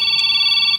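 A cellphone rings with a steady electronic tone, loud and close, a sustained ringing that cuts off at the end.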